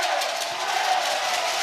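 A Welsh home crowd roars at a women's World Cup qualifier football match against England, a dense, steady wall of loud cheering that fills the whole moment with no break.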